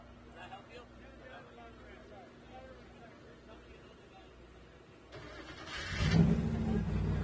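A Baja 1000 Trophy Truck Spec class race truck pulls in at the finish line, its engine swelling loud over a murmuring crowd in the last couple of seconds after a quieter stretch of crowd noise.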